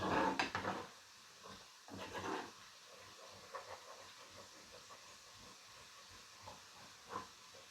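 Garlic sautéing over low heat in a pan for a homemade chili sauce, giving a steady soft sizzling hiss with a louder burst of frying near the start and faint clinks of cookware throughout.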